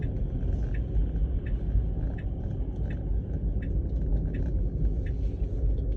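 Steady low rumble inside a moving car, continuous road and engine drone with faint ticking above it, even and unbroken throughout, no talking.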